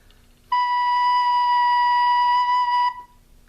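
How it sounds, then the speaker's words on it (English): A recorder sounds the note B as one steady, clear tone held for about two and a half seconds, fingered with the thumb and forefinger, loud and close with nothing else heard. "put it there on your recorder, because that is B."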